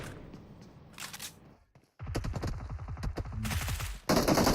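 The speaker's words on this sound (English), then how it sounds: "Zap's able to get a couple of shots onto him" Rapid gunshot volleys from the battle-royale game PUBG Mobile crack in quick succession, with a faint burst early, a pause, then louder dense sprays toward the end.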